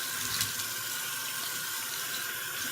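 Warm tap water runs steadily into a bathroom sink with soft splashes as a face is rinsed, a close, continuous rushing hiss with no talking.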